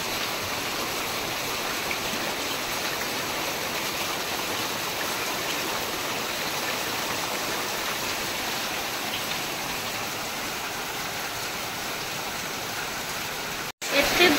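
Heavy rain pours down steadily around a village home, a dense, even hiss that holds at the same level for the whole stretch before a brief cut near the end.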